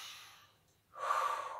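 A forceful exhale during an abdominal exercise, a short breathy rush of air following a fainter breath and a brief pause, close and alone with no talk.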